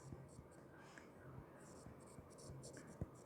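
Chalk or marker scratching on a board during a thermodynamics lecture: a series of short, faint strokes and taps at an irregular pace, heard close under quiet room noise.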